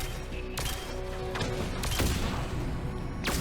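A few sharp, widely spaced gunshots crack out in the video game Mass Effect 3, each a sudden burst standing above a quiet background rumble, with no talk.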